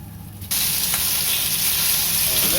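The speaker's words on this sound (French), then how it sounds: "on va passer un peu d'huile et on jette les ailes dedans" Chicken wings dropped into hot oil in a pan burst into a loud, steady sizzle after a short quiet lead-in, a dense close crackling hiss that holds evenly to the end.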